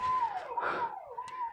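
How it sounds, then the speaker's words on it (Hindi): An ambulance siren wails with rising and falling sweeps, faint and somewhat distant, over a short stretch with a muffled noise burst in the middle. "शायद हमारे लिए एम्बुलेंस भी आ चुकी है, सायरन सुनाई दे रहा है"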